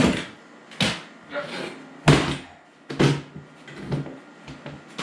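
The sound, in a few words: folding steel work table being flipped over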